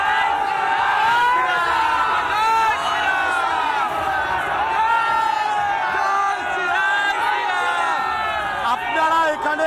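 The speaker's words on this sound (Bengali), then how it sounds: "তারা লাগাতার স্লোগান দিচ্ছেন" A large crowd of Hindu protesters at the Petrapole–Benapole border gate shouts slogans continuously. Loud overlapping voices rise and fall together in a rough chant, with cheers and whoops mixed in.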